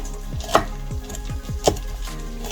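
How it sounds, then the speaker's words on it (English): Knife slicing ingredients for a lamb stew on a cutting board, a handful of sharp chopping strokes at an uneven pace, two of them louder knocks, close and alone. "we're gonna slice them up"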